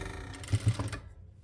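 Sewing machine stitching a doormat made from old t-shirts, a quick close mechanical whir with a few rhythmic needle thumps that slows and stops.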